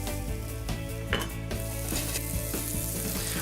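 Onion frying in butter in a hot pan, a steady close sizzle with occasional stirring scrapes and light clinks of utensils against the pan, no voices.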